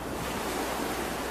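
Stormy sea waves surge in a continuous, loud hiss and roar with wind, a dramatic water effect for a story about Jonah thrown into the sea.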